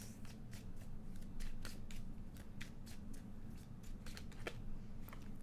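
Message cards are handled and shuffled in a quick series of soft riffling flicks and taps, close up over a steady low background hum.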